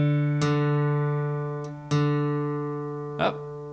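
A piano key sounding the note D, matched to a guitar's third string for tuning, rings out as a sustained tone with three fresh strikes spaced apart, each decaying slowly with no voices over it.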